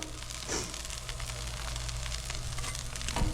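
Potatoes and bread frying on a Blackstone flat-top griddle make a steady, close sizzle, with crackling and a brief scrape or flip sound partway through.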